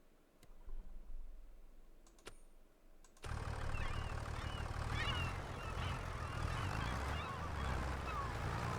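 Seagulls and other birds from a Farming Simulator 25 sound mod, first faint clicks in near quiet, then a sudden steady outdoor ambience with scattered gull cries and chirps rising and falling.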